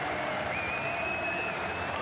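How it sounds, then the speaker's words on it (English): A rugby stadium crowd in Lille applauds and cheers in a dense, steady roar of clapping throughout a France versus Uruguay World Cup match. "They've been waiting for an opportunity to be able to cheer this French side"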